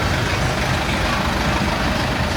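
A car engine runs steadily with a dense, continuous rumble and broadband roar, loud and close, with no pauses or talk.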